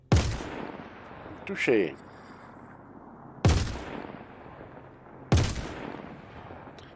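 Loud bursts from a Behring FS9 LMG light machine gun in Star Citizen, three sharp separate shots spaced a couple of seconds apart, each with a short decaying tail, and a voice speaks once between them.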